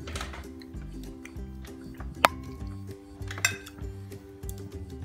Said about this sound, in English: still doing the dishes